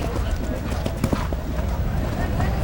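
Show-jumping horse galloping toward a tall narrow vertical fence in an arena, hoofbeats thudding in a loose rhythm beneath steady commentary and crowd ambience.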